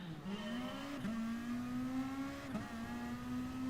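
Race car engine in GT Sport at Fuji Speedway, one loud, close engine note climbing steadily through the revs, with brief dips at each gear change, no talking.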